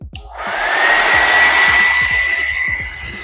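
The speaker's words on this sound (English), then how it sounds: "I'm gonna sit underneath this dryer for probably like 10 minutes while I'm doing my makeup" A hooded hair dryer on its high setting blows a loud, steady whoosh with a thin whine riding on top, holding constant throughout with faint low thumps underneath.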